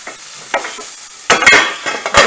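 Onions and pork sizzle in a frying pan while a utensil scrapes and stirs, with several sharp clatters of metal on the pan over a steady low hiss.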